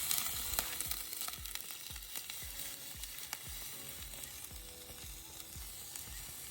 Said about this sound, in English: Let's go ahead and get that rice going